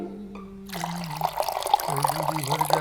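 Water pours and splashes steadily as someone is bathed with cold water, a continuous near splashing that starts after a brief quiet moment, with no talk over it.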